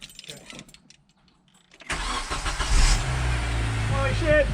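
A 7th-generation Honda Accord engine cranks and catches after a quiet pause, bursting into a loud, rough rev that settles into a steady idle, with people talking nearby.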